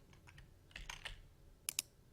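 Quick bursts of typing on a computer keyboard while code is written, a light run of soft key clicks ending in two sharper, louder keystrokes.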